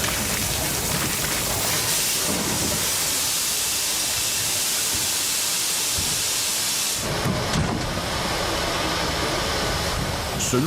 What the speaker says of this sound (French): c'est dans le nuage de vapeur libéré par les purgeurs que la K8 s'arrache à la voie du dépôt